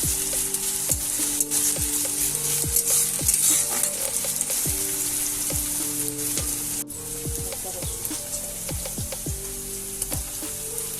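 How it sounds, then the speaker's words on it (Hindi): Chopped onion and bay leaf fry in hot oil for a kora masala potato dish, giving a steady loud sizzle with repeated clicks and scrapes of stirring throughout. "तेल गरम हो कटा पियाज तेजपत्र पकई दिंतु"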